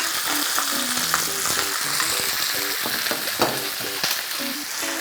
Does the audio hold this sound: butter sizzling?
yes